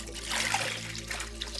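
A cotton skirt is dipped into water for a colour-bleed test, giving a brief, close trickle and gentle splashing of water with no talk.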